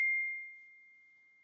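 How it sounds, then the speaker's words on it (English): A single bright ding of a phone's text message alert rings out once, loud at the start and then ringing down in a long, clear, fading tone, with no talk over it. "Just got a text message."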